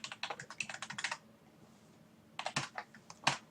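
Rapid runs of clicking keys on a computer keyboard, a dense burst of typing, then a short quiet gap before another flurry of keystrokes, close and fairly soft.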